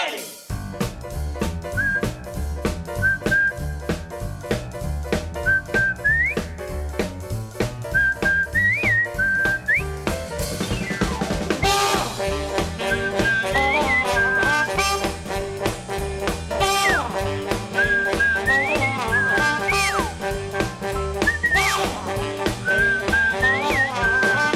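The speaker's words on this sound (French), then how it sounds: "le générique, je peux rien dire, ça vieillit pas" Someone whistles a cartoon theme melody in repeated short phrases over a full backing track. The whistling sits clearly on top of the music throughout.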